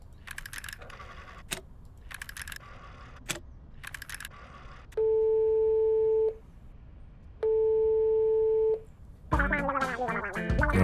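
Telephone tones in the Police Chief Simulator video game: a few rapid clicks, then two long steady beeps separated by a pause, followed by a brief burst of louder sound.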